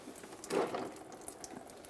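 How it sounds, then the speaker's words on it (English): Coolant drains from the radiator of a 1994-2002 Dodge Ram 2500, a brief splashing gush of liquid that swells and then settles into a light, fairly close trickle, with no one talking. "Got a little bit of coolant coming out of this now. Now we can let the coolant drain."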